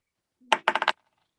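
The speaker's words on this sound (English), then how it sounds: "I gotta get my dice here" A quick clatter of dice tossed onto a table, one initial clack followed by a short burst of three or four rapid rattling bounces, close and crisp, then silence.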